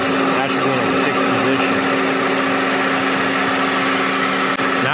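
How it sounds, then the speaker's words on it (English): A Honda AC compressor clutch spins with the engine running even though the AC is switched off. It makes a steady, close mechanical whir and hum over the idling engine, with a constant tonal drone throughout. "that compressor clutch was just spinning away even though we have this off"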